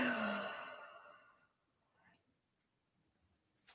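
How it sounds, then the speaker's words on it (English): A deep yoga breath, heard mainly as one long, breathy sigh-like exhale up close that fades over about a second and a half, followed by near silence with faint rustles. "Take a big inhale in. Exhale it out."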